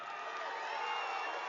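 Dense crowd of supporters cheering and shouting at a political rally, a steady, loud roar of many voices sustained throughout without pause.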